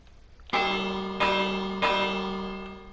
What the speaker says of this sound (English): Because it feels like a harbour if there's a bell sound,